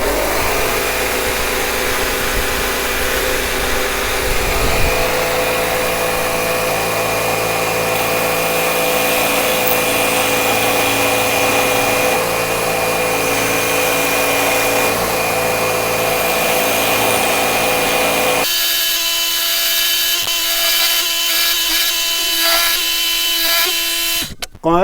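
A Parkside jigsaw mounted in a PSST A1 bench table runs loudly and cuts wood freehand, with a steady, close mechanical whine and buzz for about twenty seconds that turns harsher near the end, then stops.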